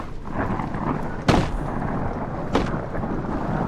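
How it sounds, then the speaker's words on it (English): Thunder inside the horror game Amnesia, a low rolling rumble under a steady storm wash, with two sharp cracking booms, one loud and one fainter. "Okay, it's just the thunder."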